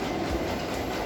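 A train runs on a railway in Lampang, Thailand, with a steady, close, loud rumble of wheels on track and a faint clickety-clack throughout.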